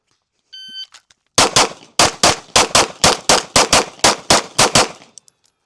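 Eleven sharp pistol shots ring out loud and close during a target transition drill, fired in a quick, fairly even rhythm after a short electronic beep start signal, with no talking.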